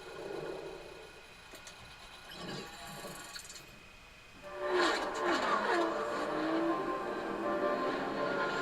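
Car engine revving from the Forza racing game, a strained motor rising and falling in pitch with roaring acceleration, faint at first and then louder and sustained in the second half, with no talking.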